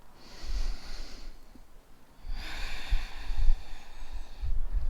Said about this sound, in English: And we'll take 1 more deep breath.